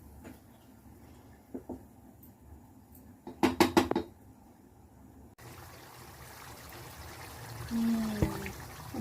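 A spoon scrapes and clinks against a pan while tomato chutney cooks on a stove, giving a few bursts of metallic clatter followed by a quieter sizzling stir.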